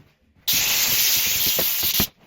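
A steam cleaner blasts a steady, loud hiss of steam onto watermarked spots for about a second and a half, close up, starting and stopping abruptly.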